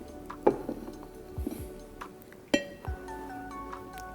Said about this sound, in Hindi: अब ये जो रायता इसको हम निकालते हैं डिश में।